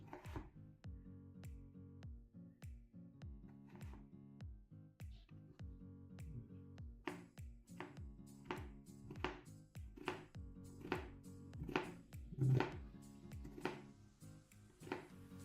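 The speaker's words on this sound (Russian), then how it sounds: "Вот таким образом я режу картошечку." A knife chops potatoes finely, striking the cutting surface close by in a steady, even rhythm of crisp chops for some fifteen seconds. The chops grow slightly louder toward the end, with no talking.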